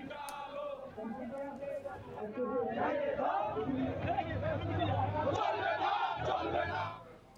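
Workers' council procession at a protest rally against unreasonable tariffs, a large crowd chanting slogans together in loud sustained waves of massed voices, with shouting rising and falling before fading at the end.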